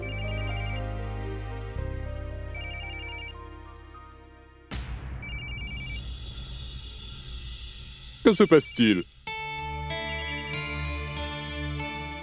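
A phone ringing in a classroom, repeated electronic ringtone bursts amid background music and sound effects, fairly loud and interrupted partway through, with a voice speaking briefly.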